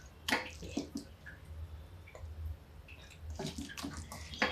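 Hands being washed under running water in a home kitchen during Rajasthani dal baati and chokha preparation: uneven splashes and drips in short bursts, close by, over a low steady background hum, with no talking.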